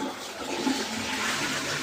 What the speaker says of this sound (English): You flushing your toilet on the mic.